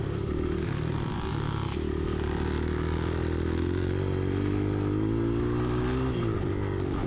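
A dirt bike engine revs continuously, droning loud and close with rising and falling pitch, no voices.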